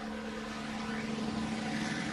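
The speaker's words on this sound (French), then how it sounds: "Mais non, mais on a un hélicoptère. Oui, ça s'entend." A helicopter flies overhead at the start of the 2015 Transat Jacques Vabre sailing race, giving a steady, continuous rotor and engine drone that holds at a moderate level throughout.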